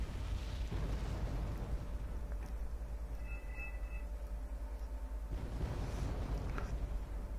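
Artillery rounds exploding in the real-time strategy game Wargame: Red Dragon, a heavy continuous rumble of blasts with a swelling burst near the end, loud and without talk.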